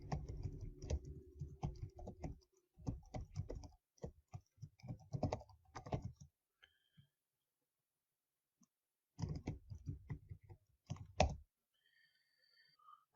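Keys clatter on a computer keyboard as a user ID and password are typed in, bursts of close, dry clicks in quick runs with short pauses, then a long quiet gap before a final flurry of keystrokes.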